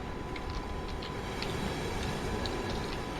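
Steady rumble of a double-decker passenger train running in the Nordbahn Train Simulator 2021 game, a continuous rail hum with faint higher clicks, no talking.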